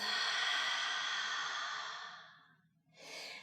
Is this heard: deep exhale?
yes